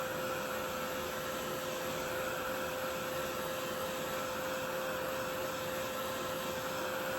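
A heat tool steadily drying a spritzed card for a craft background, giving a loud, constant whirring blower roar with a faint high whine and no talk over it.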